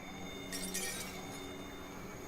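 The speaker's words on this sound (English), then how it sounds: "I just stepped on glass." Broken glass crunches and clinks underfoot in a Spiderman video game, a couple of brief bright crackles over a steady low game background hum.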